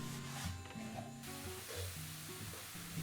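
Apples are stirred and tossed with spices in a pan, a soft sizzle and scraping running steadily for a few seconds under background music.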